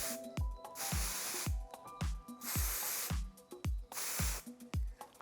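A spray can of model paint hisses in four or five short, regular bursts, each with a rattling click at its start, close and fairly quiet.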